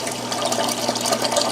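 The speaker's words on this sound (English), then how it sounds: "That water is churning and going down inside that overflow box" Water in a saltwater reef aquarium churns and pours down into an overflow box, a steady, close rushing and gurgling wash that holds constant throughout.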